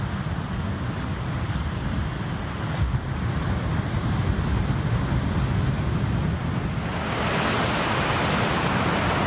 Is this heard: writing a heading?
no